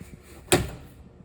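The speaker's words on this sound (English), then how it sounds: "close the door shut" The screen door of a 2022 Forest River Cedar Creek 38EL RV swings shut with a single sharp close, nearby and fairly loud, over quiet background hum.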